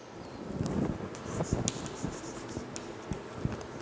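Pen scratches softly on paper while an answer is written out, a string of faint scratchy strokes with light background noise in a classroom setting.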